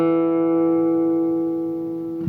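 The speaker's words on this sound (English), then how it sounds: "we're coming out of a hammer-on on the D string" Flatpicked acoustic guitar lick in G coming out of a hammer-on on the D string: a single clear, close note rings and slowly fades over about two seconds, with no other sound.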